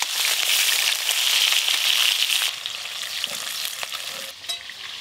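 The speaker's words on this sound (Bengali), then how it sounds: "তেল খুব ভালো করে গরম হয়ে গেছে, এবার অল্প অল্প কাঁটা দেবো" Bhetki fish bones frying in very hot oil give a loud, dense, crackling sizzle that stays close and continuous and eases slightly midway, with faint stirring and no voices.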